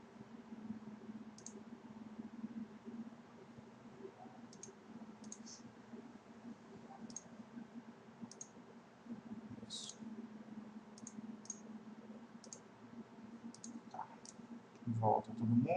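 Sparse, soft computer mouse clicks while objects are selected in 3ds Max, single and double taps spaced a second or two apart over a low steady hum, with a couple of louder clicks near the end.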